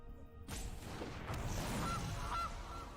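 A cartoonish goose honks in a Magic: The Gathering digital card game, a couple of short nasal honks following a noisy burst of game effects, with no talk.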